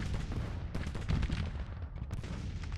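Civil War troops fire rifles in the strategy game Grand Tactician, with dense, continuous volleys of crackling gunfire and deep booms that overlap into a loud, rolling battle din.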